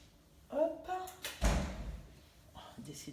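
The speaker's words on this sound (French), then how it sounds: "Décidément, les portes." Kitchen doors open and shut in a few hollow thuds and clatters, one heavier knock midway, with a brief voice murmuring near the start.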